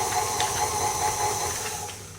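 An electric mixer runs on low, beating vegan chocolate orange cookie dough with a steady whirring hiss and faint rhythmic churning, continuous and fairly close, with no talking.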